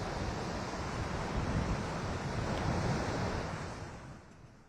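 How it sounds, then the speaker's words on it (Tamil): Strong Cyclone Fenjal wind roaring steadily over a rough, crashing sea, a dense continuous rush of surf and gusts that eases slightly toward the end. "காற்றின் வேகத்தை நீங்களே பார்த்துட்டு இருந்திருப்பீங்க."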